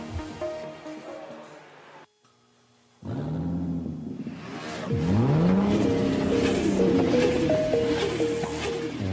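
Car engines rev in a Puma Energy fuel station advertisement, rising and falling in loud sweeps over a busy, music-like background, after a brief near-silent pause.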